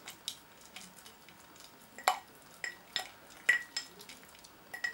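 Talc and alcohol mixture being stirred in a small container for an ant-farm escape barrier, quiet irregular scraping and light clinking strokes, close and faint.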